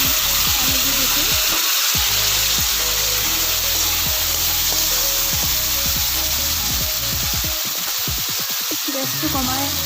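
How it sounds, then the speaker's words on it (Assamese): Spice masala sizzles steadily in a pan after a splash of water, a dense continuous hiss with scattered crackles and pops throughout, for a mustard fish curry. "আৰু মছলাখিনি সিজিবৰ কাৰণে মই অকণমান পানী দি দিছোঁ।"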